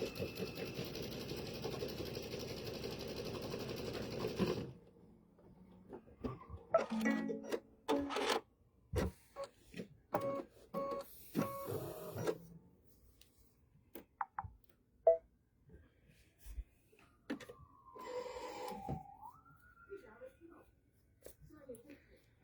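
An embroidery machine sewing a satin stitch around a bunny design, a steady close mechanical whir for the first few seconds, then stopping as someone talks over scattered clicks and handling sounds.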